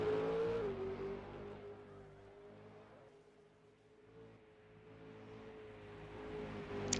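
A V8 Supercar race car engine drones on track with a steady tonal whine that fades through the middle and swells again, distant and faint.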